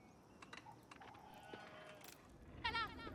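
A sheep bleats once near the end amid faint clicks and soft game sounds, the bleat quiet and brief in a video game.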